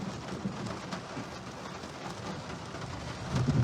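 A violent thunderstorm in Occitanie: steady rain hisses and patters throughout, and a low rumble of thunder swells near the end.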